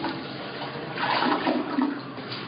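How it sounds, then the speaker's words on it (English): A toilet flushing for the first time, a short rushing gush of water swelling in the middle and then easing off, close and moderately loud with no voices. "This is the first flush of the toilet"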